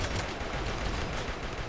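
Gunfire in the video game RimWorld, in a sci-fi colony firefight with the colonists outnumbered. The rapid shots are fairly faint and run together in a dense, steady crackle.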